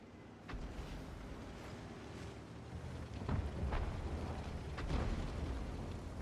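A tank takes a hit from an ARL shot in a tank battle game, a couple of sharp muffled impact bursts cutting through a steady rumbling engine and wind-like background, loud and close.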